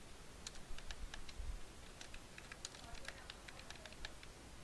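Quiet clicking of keys on a computer keyboard while writing PHP code, irregular quick taps over a low background hiss, faint and close.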